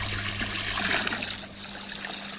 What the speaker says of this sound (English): we have this pump pumping water into this one from the pond